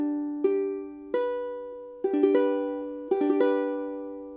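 A G chord is strummed on ukulele several times in a loose rhythm, each bright strum ringing out and decaying, close and clear with no talking.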